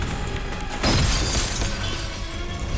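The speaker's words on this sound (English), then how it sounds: "it picks up a garden chair and smashes it into the sliding glass door" A garden chair, flung by tornado winds during a Florida hurricane, smashes into a sliding glass door, a loud sudden crash with a shattering burst over a constant roar of wind.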